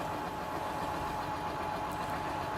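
A John Deere 8R tractor of the older style idles steadily in a farming video game, a continuous low engine drone with a faint mid-range hum, close and unbroken for the whole stretch.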